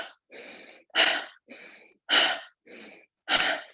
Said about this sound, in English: This is what we call empowered breathing